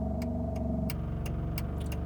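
A car moving through traffic, with a steady low engine drone and road rumble running throughout and a few faint clicks over the top.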